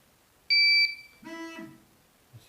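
A GZAIR SA103 carbon monoxide gas alarm sounds close and loud: a sharp, steady high-pitched electronic beep, then a buzzy vibrating tone, and a faint click at the end.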